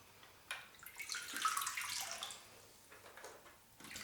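Water pouring out of the chamber of a 1984 G.I. Joe SHARC toy, a close splashing trickle that swells, then thins and sputters before a final gush.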